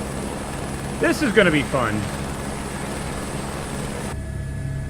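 Helicopter in a flight simulator game, heard from an exterior view as a steady rotor and engine drone throughout, with a short spoken phrase over it before the drone cuts out near the end.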